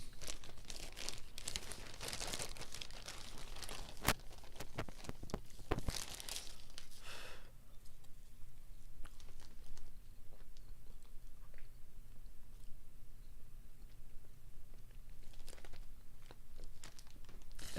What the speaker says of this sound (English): ASMR of me chewing on marshmallows.